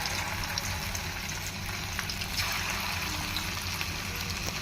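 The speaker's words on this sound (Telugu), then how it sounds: "ఆయిల్ హీట్ ఎక్కిన తర్వాత చికెన్ వేసేసాను" Chicken sizzles in hot oil in a steady, loud, continuous crackle with faint bubbling pops throughout, and no voices.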